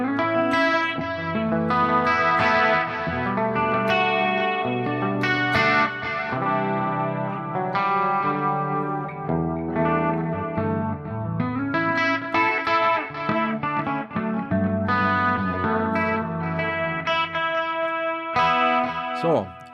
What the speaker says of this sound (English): I prefer to add a compressor for the clean sound